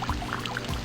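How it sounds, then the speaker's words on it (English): A urinal flushing in a video game, a steady close rush of pouring water that runs the whole moment with no break, alone and with no voices. "all we get to see is him flushing the urinal at the end"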